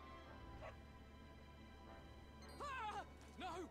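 A dog in the Dragon Quest 11 video game gives two short, whiny yelping barks near the end, set against a steady low game hum and quiet background music.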